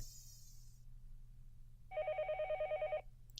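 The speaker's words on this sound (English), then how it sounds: "The phone rang and I didn't know where the call was coming from." A telephone rings in the Higurashi visual novel game, a single burst of rapid electronic trilling lasting about a second, clear and loud over a faint low hum, after a brief high fluttering sound at the start.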